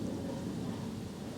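Dense low rumbling thunder with steady rain noise during an afternoon storm in England, continuous and fairly loud throughout.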